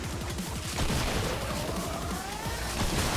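Dragoon double-barrel shotgun blasts in Fortnite rip through enemies rounding a corner, several heavy booming shots in quick succession over a dense layer of game effects.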